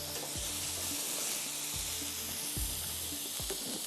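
Fresh garlic sizzles in a hot pan while a chapli kabab sizzler is being cooked, a steady, bright frying hiss with a few soft low thumps from stirring. No voices are heard.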